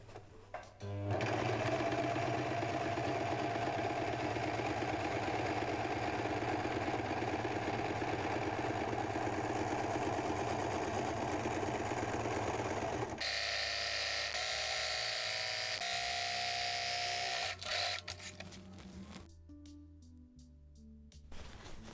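A sewing machine runs steadily for about twelve seconds, stitching a dress being upcycled into a skirt, then shifts to a different whirring tone and stops. The mechanical hum is close and continuous with no voices.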